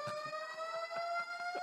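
An alarm siren blares inside a church, a steady high electronic wail with several stacked tones sounding continuously and loudly, with faint voices or movement pulsing underneath.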